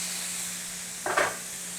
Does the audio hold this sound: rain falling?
no